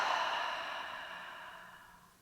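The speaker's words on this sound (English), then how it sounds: "Take another breath in and exhale." A long, audible exhale during a yoga session, a soft breathy rush close to the microphone that fades gradually over two seconds, with no talking.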